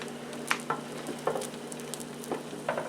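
A grilled cheese sandwich fries in a pan, making a soft, continuous sizzle with scattered light pops and crackles throughout. No voices are heard.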